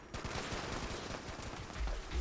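Grenades going off in the video game Fallout, a dense, continuous barrage of loud, rapid blasts and gunfire-like cracks filling the whole stretch, with heavier booms swelling near the end.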